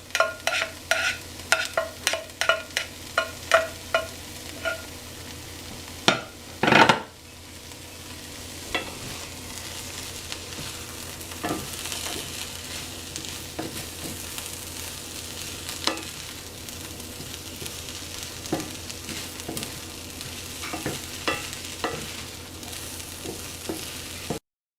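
Leafy greens for a backyard breakfast burrito fry steadily in a pan, opening with a run of sharp scraping stirs and clanks before settling into a continuous close sizzle with occasional utensil taps, no talking.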